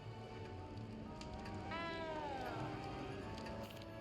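A cat meows once, drawn out and rising then falling, in Hogwarts Legacy, set against a quiet, steady wash of rain-like background noise.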